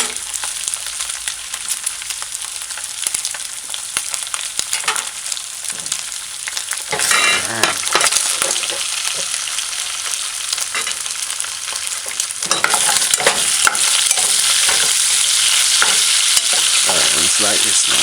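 Onion and scallion sauté in a hot pan for a Jamaican ackee and bacon breakfast, a steady hissing sizzle with stirring scrapes, growing louder and denser toward the end.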